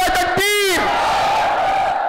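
A crowd at a religious gathering roars a unison chant in answer to a takbir call, the massed voices loud and close, rising briefly before fading into a reverberant hall murmur.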